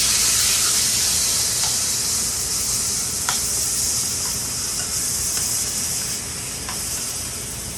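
Paella in a pan simmers and sizzles with a steady bright hiss after vegetable stock is poured in, a close continuous bubbling with a few faint clinks, no voices.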